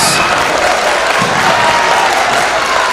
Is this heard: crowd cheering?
yes